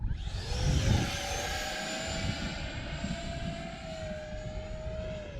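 A T-33 jet plane in a flight simulator game flies with a loud, steady engine roar and a high whine that holds throughout. A swell of low rumble comes near the start.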